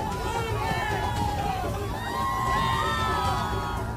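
A large crowd at Narendra Modi's road show in Gujarat, a steady hubbub of cheering, whooping and shouting voices, moderately distant and continuous throughout.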